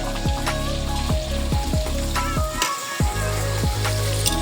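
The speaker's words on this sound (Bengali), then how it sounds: "বাবা হচ্ছে মাছ ভাজছে" Loud, steady sizzling of hilsa fish frying in hot oil in a pan, with a few scraping stirs at a regular pace.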